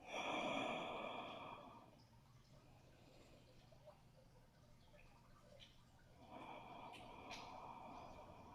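Slow, audible breath during a quiet yin yoga session, a soft breathy rush at the start that fades into near silence, then a second gentle breath swelling near the end, close and faint.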